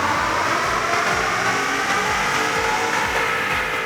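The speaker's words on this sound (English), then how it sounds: "We're gonna take a baseline run on the dyno with our 16 with 93 in the tank." 2016 Ford F150 with the 3.5L EcoBoost on a rear-wheel dyno for a baseline run on 93 octane, its engine droning loud and steady under load with a continuous roar and no voices.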